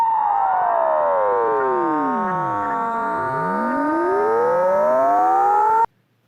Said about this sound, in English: We can listen to this again, but now we plot the amplitude of the sound signal of the twisted wave.